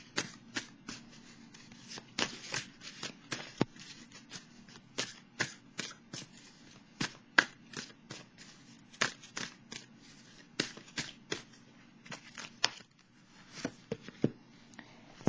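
Tarot cards are shuffled in quick, crisp riffles and slaps, a steady run of sharp papery snaps close by with brief pauses, no talking.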